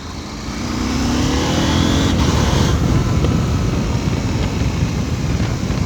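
Engine of a KTM 890 SMT supermoto motorcycle being ridden, a loud steady drone blended with wind rush, rising slightly at first and then holding level with no talk.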